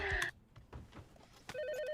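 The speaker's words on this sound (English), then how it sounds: "The phone has been ringing all morning." A telephone rings in a movie scene, a short electronic warble that trills twice, loud and close, with brief murmuring in between.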